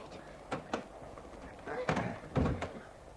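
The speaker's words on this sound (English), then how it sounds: "I'm going to unlock the door, Dorothy." A door in a wet-night setting is unlocked and pulled open: a few soft clicks and rattles, then louder thumps of the door moving, fairly close, in an otherwise quiet room.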